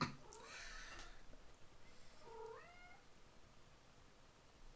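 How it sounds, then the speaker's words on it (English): A house cat gives a couple of faint, short meows, with soft breathing and shuffling around it in a quiet indoor room. "I don't remember letting the cat back in the house"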